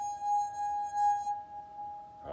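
Wet fingertip circling the rim of a wine glass, drawing a steady pure ringing tone that sustains close and clear, then stops abruptly near the end.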